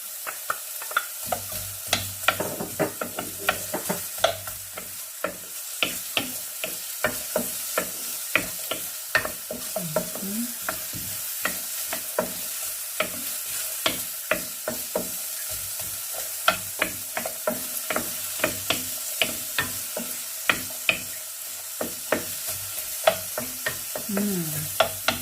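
Onions for corned beef hash fry in a pan, a steady sizzle broken by frequent sharp scrapes and clicks of stirring, close and continuous for the whole stretch with no talking.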